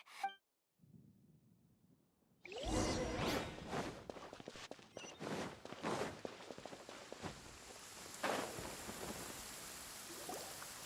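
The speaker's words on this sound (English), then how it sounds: "Paimon hears thunder!" Thunder rumbles over steady rain in Genshin Impact, with sharp cracks and crackling bursts rising out of a constant wash of rainfall after a quiet opening.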